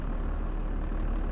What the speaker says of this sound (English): get in our tractor.